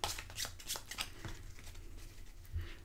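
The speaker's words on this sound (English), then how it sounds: "Then we're going to shuffle the strategy deck" A deck of strategy cards for the board game Votes for Women is riffled and shuffled close up, with a run of crisp, rapid flutters and soft slaps alone.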